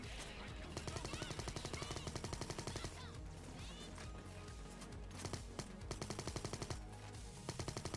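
Rapid bursts of video game gunfire from a 100-damage sniper rifle, repeated sharp cracks in quick clusters with short gaps, loud and close over dense game audio.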